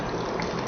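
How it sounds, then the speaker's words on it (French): Alkaline water poured into a cup, a steady close rushing splash that fills the brief moment without pause. "Je vais renverser cette eau, passer dans le gobelet"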